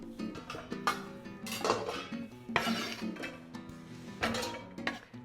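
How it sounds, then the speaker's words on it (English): Chopped celery and vegetable leaves drop into a cooking pot in a series of soft thuds and light clinks, with metal pot and utensil knocks scattered irregularly, close and alone. "Just going to pop these in the pot."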